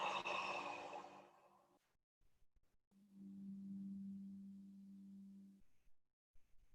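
A slow exhaled breath during a guided breathing exercise, a soft airy sigh at first, then quiet, then a low steady hum-like exhale that fades out.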